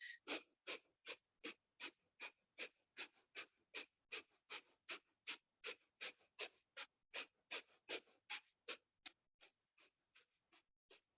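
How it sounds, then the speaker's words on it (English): Breath of fire yoga breathing through the nose, a rapid, even train of about thirty sharp nasal exhales, roughly three per second, close and clear with no talk. "And so breath of fire. Drawing the navel in as you exhale, breathing through the nose"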